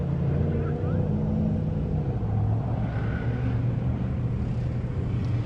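Limited-class race car number 4820, a KMC-class machine running E15 fuel, idles and rumbles steadily at the start line of a dirt course, a continuous low engine drone throughout.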